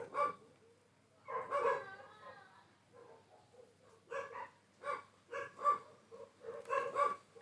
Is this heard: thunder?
no